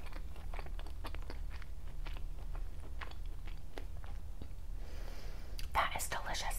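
Close, crisp biting and chewing of fresh Florida pink shrimp in spicy tequila horseradish cocktail sauce, wet crunches and mouth sounds repeating irregularly over a low background hum, with a louder bite near the end.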